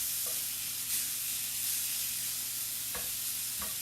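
Sirloin steaks sizzle steadily in a cast iron pan, a constant loud frying hiss with a few brief scrapes and stirring knocks as the meat is shifted around.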